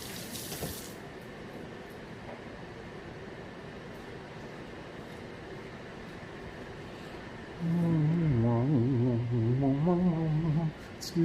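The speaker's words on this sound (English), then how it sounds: "I'm going to wash my hands first because I got meat on them" Kitchen tap water running while hands are washed at home, a steady close hiss throughout, joined near the end by a wavering voice-like hum over the flow.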